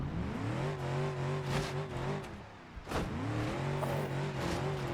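A rock crawler Jeep engine in a driving simulator game revs in two rising and falling pulls, humming steadily at a moderate pitch, dipping briefly between them.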